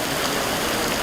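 Rain pours on a coffee farm in Laos during the harvest season, a dense, even hiss of drops on surfaces, steady and close with no break.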